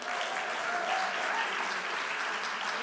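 An audience bursts into steady, full applause at a charity bidding event, a continuous wash of clapping that holds evenly loud from start to finish with no talking over it.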